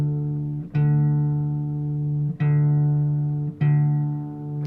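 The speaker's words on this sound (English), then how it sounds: "these two outer E strings need to go down to a D so we can match them against our open D here using an octave" Low E guitar string plucked and tuned down to D, ringing against an open D string an octave apart; three sustained strums, each decaying slowly before the next, clear and close with no talk.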